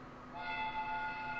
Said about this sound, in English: The train is arriving at the station.